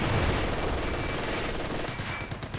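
Sustained machine gun fire in Company of Heroes 2 during a 2v2 battle, a loud dense rattle of rapid shots and explosions that fills the whole stretch without a pause.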